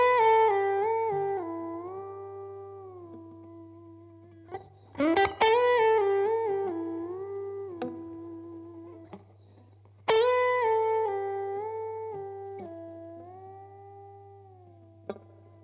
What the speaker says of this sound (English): On the last 5th fret on the B string, I'm going to bend that up a tone and a half to the G